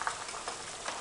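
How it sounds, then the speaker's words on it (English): Homemade chicken stock boiling in a pot on the stove, a soft, steady bubbling hiss that stays quiet and even throughout, with no voices. "our stock looks like it's boiling, and yes, it is indeed"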